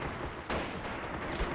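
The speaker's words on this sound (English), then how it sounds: "What's that? AT grenade?" Anti-tank grenade explosion in the WWII strategy game Men of War, on a Crete map: a loud, dense burst of battle noise with a sharp boom amid continuous gunfire, close and without talking.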